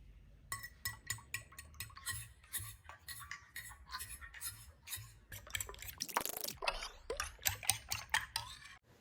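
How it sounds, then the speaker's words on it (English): Two eggs beaten with a pinch of salt, vanilla essence and milk for a French toast dip: a steady run of quick, close, rhythmic clinks and scrapes of a utensil against a bowl, with a short louder clatter midway. "In 2 eggs, add a pinch of salt, half teaspoon vanilla essence and half cup milk and beat it well"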